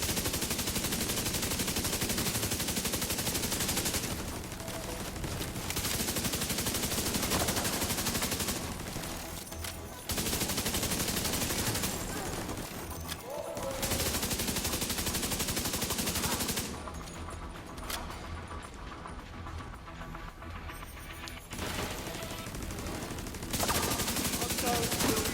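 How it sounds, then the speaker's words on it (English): An assault rifle in The Division 2 fires in long sustained bursts of rapid automatic fire, loud and dense. Short gaps fall between the strings of shots, and a few quieter pauses break up the gunfire. "So I'm primarily using my assault rifle here."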